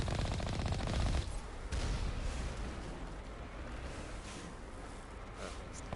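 Sustained turret gunfire in the Mass Effect video game: a dense, loud burst of rapid automatic fire opens the clip, then continues as steadier, slightly softer rattling shots with no talking.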